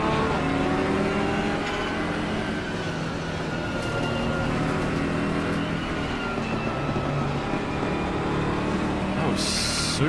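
Race car engine in a sim racing game, with a steady droning roar and shifting whine held throughout, plus a brief high hiss near the end; a voice talks over it.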